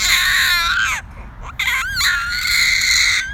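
An infant lets out shrill, piercing yells and babbling squeals, two loud bursts split by a short pause, close up with no other voices.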